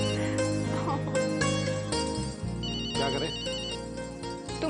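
A mobile or landline phone ringtone in an Indian TV drama scene, a steady melodic ring that repeats over dense background music for the whole stretch.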